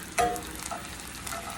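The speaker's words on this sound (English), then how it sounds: "let that go ahead and saute and melt the butter for like a minute" Butter melting and sautéing in a pan with aromatics, a steady close sizzle with a sharp burst of crackle near the start, continuing softly throughout.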